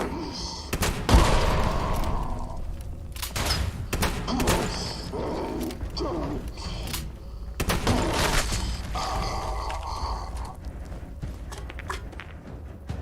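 Double-barreled shotgun blasts in the video game Fallout 76, several sharp booming shots at irregular intervals mixed with thuds and footstep-like clatter over a continuous game background.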